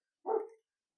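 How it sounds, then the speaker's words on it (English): A dog gives one short, sharp bark at someone, heard alone at moderate distance with silence on either side. "the dog is barking at someone"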